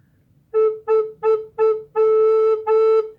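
Six clear A notes on a recorder, all at the same pitch, the first four short and evenly spaced, the last two held longer, with a quiet background.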